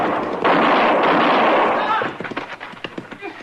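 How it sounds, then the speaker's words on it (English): Gunfire in a Gunsmoke western radio drama: a loud close blast with a long rumbling tail, then scattered sharp cracks and clatter as it fades. "But he was shooting mighty close"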